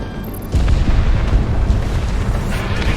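Heavy bombing explosions in the video game Project Wingman hit after a short lull: a deep, loud boom followed by a sustained rumbling roar of blasts.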